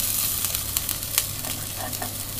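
Onion and carrot frying in oil in a pan, a steady bright sizzle with soft crackles and a few stirring scrapes, close and loud with no talking.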